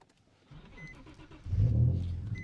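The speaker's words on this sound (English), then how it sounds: "But now, the car is started." An Infiniti G37 Coupe with a manual gearbox starts up: a quiet starter crank, then the engine catches with a loud low rumble that settles into a steady idle.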